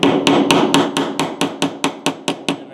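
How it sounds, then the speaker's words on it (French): A hammer striking robot chassis parts to press them into place, a dozen sharp evenly spaced blows, loud and close, with no talking. "Ça va vous prendre probablement un marteau pour terminer le travail."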